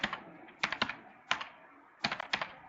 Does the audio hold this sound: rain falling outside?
no